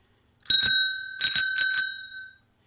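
A bell struck by an Intelitek ScorBOT ER 4U robot arm, two bright metallic dings followed by a quick cluster of four more, each ringing out with a clear sustained tone in a quiet room.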